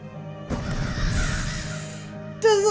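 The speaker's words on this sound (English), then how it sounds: "Those little fucking crows, how are they all down there?" Crows cawing inside The Last Door, a dense stretch of harsh overlapping caws with a louder call cutting in at the end over a low game ambience.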